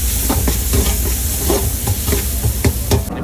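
Tamarind water poured into a simmering fish curry aboard a fishing boat, a steady close bubbling sizzle with faint stirring clatter and scattered clicks, no voices.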